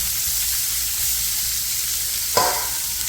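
Onions sautéing in a pan give off a steady, soft sizzle, with a brief louder stir or scrape near the end.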